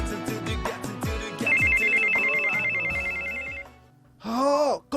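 A mobile phone ringtone plays loudly in a classroom, a bright melodic electronic tune with a repeating looped pattern, ending in a brief burst of noise.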